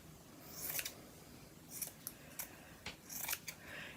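Scissors cutting a cotton T-shirt into a strip for yarn, a series of soft close snips and crunching blade closes in an uneven rhythm over a quiet room.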